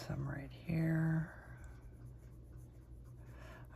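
Holbein and Prismacolor colored pencils shade lightly on paper, giving soft, faint scratchy strokes with a brief steadier stroke early on, up close and quiet.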